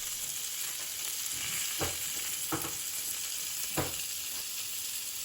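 Malai kababs frying in a pan over medium heat, a continuous bright sizzle with a few soft knocks and shifts as pieces are turned, close and steady with no voices.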